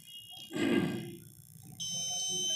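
A gas leak detector buzzer sounds in a home kitchen setup, a steady electronic tone that switches on partway through, alongside a brief burst of broadband noise and a whirring motor.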